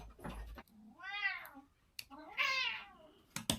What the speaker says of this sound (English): And then I got this cat yelling at me.